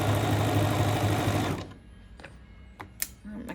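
A sewing machine runs loud and close, stitching a quilt block seam in a fast steady whir for about a second and a half, then stops, followed by a few soft clicks and handling noises.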